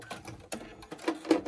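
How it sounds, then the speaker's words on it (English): Sewing machine stitching quilt pieces together for a pinwheel block, close and fairly loud, a quick rhythmic mechanical chatter of needle strokes with no voices. "let's just sew this one together"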